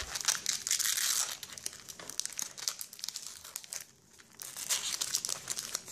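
A Pokémon booster pack's plastic wrapper crinkles and tears as it is pulled open by hand. The crackling runs close and continuous, with a brief quieter lull before the crumpling picks up again.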